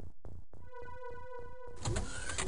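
Mechanical sliding door of a UFO opening in the strategy game X-COM: UFO Defense: a rhythmic series of whirring servo pulses with a steady tonal hum, ending in a louder hissing rush.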